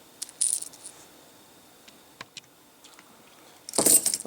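An everyday-carry set of keys jangling and clinking, with a couple of metallic bursts at the start, scattered small ticks in between, and a louder rattle at the end, close by with no talking.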